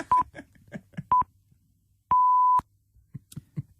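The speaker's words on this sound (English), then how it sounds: "The pips come on. It's the tree alarm." Radio time-signal pips sound as short, clean electronic beeps: a few brief tones followed by one longer held tone, spaced between quiet gaps with faint background murmurs.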